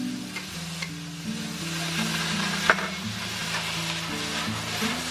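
Pork neck is stir-fried in a wok with garlic chive flowers, red pepper and onion while sauce is poured in, giving a loud steady sizzle with scraping spatula strokes and a sharp clink, and no talking.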